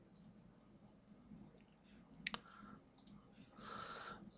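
Computer mouse clicks on a desktop while working in bill-of-materials software, a few quiet, sharp clicks around the middle of an otherwise low, hushed room background.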